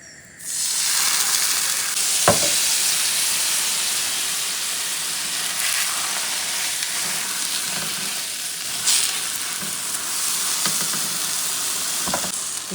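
Ghee spread over naan sizzles steadily in a hot pan, a close, continuous frying hiss with a few sharp clicks and scrapes, and no one speaking.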